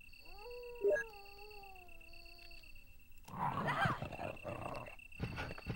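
A dog in Resident Evil on Sega Saturn lets out a rising howl-like cry, followed by a burst of snarling growl amid droning game ambience and tones.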